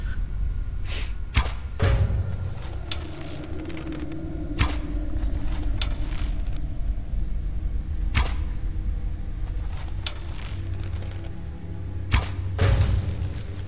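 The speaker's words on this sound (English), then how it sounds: "I can hear arrows being pulled" Arrows drawn and loosed in a streamlined console-style fantasy role-playing game, heard as a run of sharp, loud thuds and releases at irregular intervals over a steady ambient bed, with no talking.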